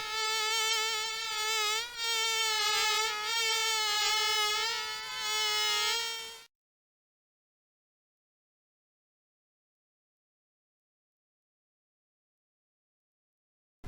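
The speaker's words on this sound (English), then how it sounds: "Buzzing through a beehive." A cartoon bee in the 1995 PC game Gus Goes to the Kooky Carnival buzzes with a wavering, nasal drone for about six seconds, then cuts off into total silence.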